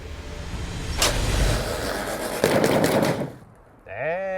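Handgun shots from a Smith & Wesson 10 millimeter at an outdoor range, a couple of sharp reports with echoing decay, followed by a brief tonal squeal near the end.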